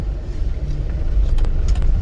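A car engine rumbles and strains on a steep, rough, uneven road, with low-frequency growling, rattles and clatter over about two seconds, close and fairly loud.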